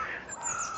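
A seagull calls overhead outdoors in Scotland, a harsh squawking cry sustained through the moment against steady open-air background noise.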